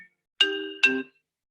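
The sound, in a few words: phone notification sound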